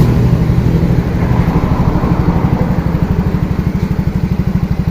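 A FINO Fi scooter engine runs steadily at idle nearby, a loud continuous low putter with a fast regular pulse and no talk over it.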